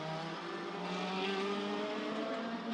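DTM race cars, among them a BMW, race at Hockenheim, their engines a loud, steady high-pitched whine with shifting tones held throughout as the cars scream past together on track.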